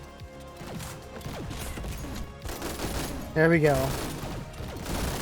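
Rapid gunfire from the Thunderlord weapon in the first-person shooter GTTOD: Get To The Orange Door, a dense stuttering burst of shots over game effects, with a brief voice speaking partway through.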